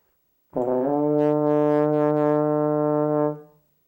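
A single sustained D note from a baritone horn, held steady for nearly three seconds with rich harmonics, then fading out. No other sounds.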